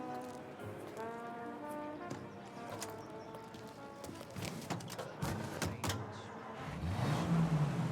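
Car driving in Mafia Definitive Edition, a steady engine drone with harmonic tones under background music, rising into a louder low rumble near the end; no speech.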